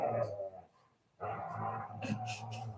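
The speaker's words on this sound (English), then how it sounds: "can you guys hear my dog in the background?" A husky shepherd dog whimpers and growls a short way off, restless bursts with a brief quiet gap between them, and a person talks in the room.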